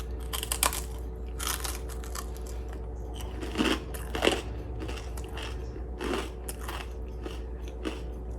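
Homemade bagel chips made from clearance bagels being bitten and chewed close up, with several sharp crunches spread irregularly through steady soft mouth sounds.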